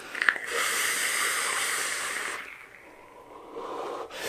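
A long, steady breathy hiss of vapour exhaled from an e-cigarette filled with a blue raspberry e-liquid high in VG, close and fairly loud, tapering off about halfway before a second softer breath.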